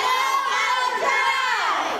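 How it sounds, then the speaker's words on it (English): Crowd of children screaming and shouting excitedly at a new school's open house, a dense, loud wall of overlapping high voices with no pause. "Kids are screaming how much they love their new school"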